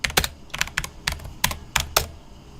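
Typing on a computer keyboard in quick, uneven bursts of sharp key clicks, close up and fairly quiet, with no talking.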